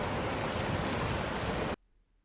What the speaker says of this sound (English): living in this area, you hear the ocean